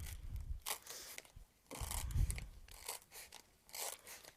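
A blade cuts into the edge of a foam pool noodle, giving soft crunchy snips and scrapes in several short bursts with quiet pauses between them.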